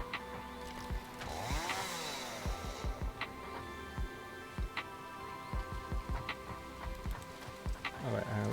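Chainsaw in the factory-building game Satisfactory, a buzzing saw drone with repeated sharp clicking ticks and a few whooshing sweeps, fairly quiet and without voices.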